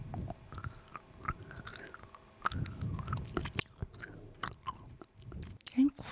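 Frozen ring-shaped gummy jelly being chewed up close, with a steady run of crisp crunches and bites, wet mouth sounds and a few bright clicks, and no talking over it.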